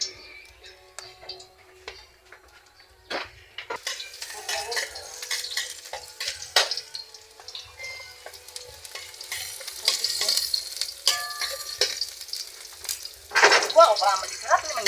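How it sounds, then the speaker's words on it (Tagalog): Cooking oil sizzles and spatters as aromatics are sautéed for spaghetti, with utensils stirring and clinking against the pan and loud bursts of frying throughout. "ilagay natin yung mantika. Ayan. Gigisa na natin"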